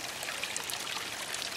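Hot spring water flows steadily in a continuous, soft, even stream that is moderately faint and carries no voices.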